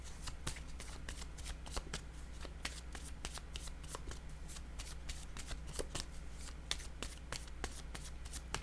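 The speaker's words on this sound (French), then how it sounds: "Je vais déposer une carte sur le blocage." Tarot cards are shuffled and laid down close by, giving a steady, fast flutter of crisp riffling card snaps that runs without a break.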